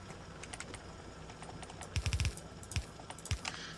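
Bursts of computer keyboard keys pressed during a Factorio gameplay session, clustered rapid clicks followed by a few isolated taps over a low background hum, close and moderately loud.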